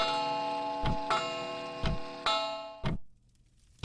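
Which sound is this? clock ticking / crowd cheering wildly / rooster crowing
clock ticking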